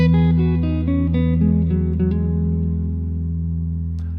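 A guitar drones a sustained E note. It rings out close and clear, with a strong steady low tone and a few brief upper notes near the start, then slowly fades as it sustains alone.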